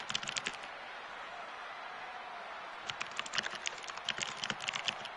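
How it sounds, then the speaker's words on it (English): Quick bursts of typing on a computer keyboard, crisp close key clicks in irregular clusters with a soft steady hiss behind, busiest in the first half-second and the final two seconds. "just doing a little bit of typing real quick here"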